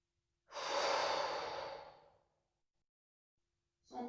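A person exhales strongly and steadily for about two seconds during a bio-energetic breathing exercise, followed by silence and then the start of another deep breath; close and alone, with no speech.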